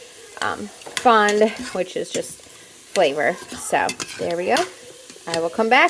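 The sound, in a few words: vegetables sautéing and being stirred in a pan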